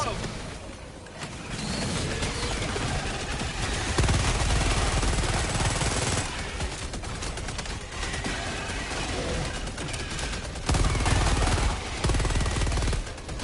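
Dense gunfire from the video game Helldivers 2, a continuous stream of rapid shots and explosions that stays loud throughout, with players talking over it.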